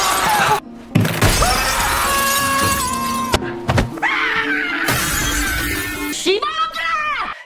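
A glass bridge panel shatters in Squid Game, a loud crash and breaking burst amid dramatic music, with thuds, a scream-like cry and other sounds around it.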